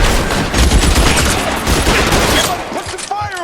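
Dense bursts of gunfire in the LA Noire video game, loud rapid volleys of overlapping shots crackling continuously for several seconds, tapering slightly toward the end.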